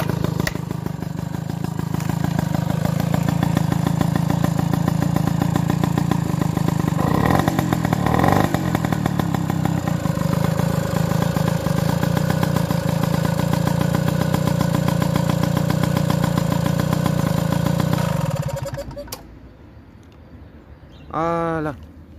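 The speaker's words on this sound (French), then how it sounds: "j'aime bien apprécier un moteur qui tourne au ralenti" A moped engine idles steadily and loudly for about eighteen seconds after being started, with a dense, even mechanical drone, then cuts out abruptly, leaving a short quiet tail with a brief rising whine near the end.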